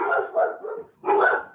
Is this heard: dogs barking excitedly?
yes